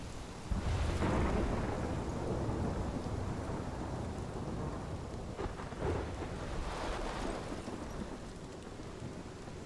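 A thunderstorm in the game Life Is Strange roars with steady heavy rain and wind, and deep rolling thunder swells near the start and again toward the end, loud and enveloping with no talking.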